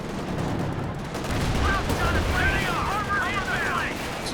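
Tank gunfire pounds a T-34 in the video game Company of Heroes 2, a rolling barrage of blasts and battle noise with whistling shells overhead, under a commentator's voice.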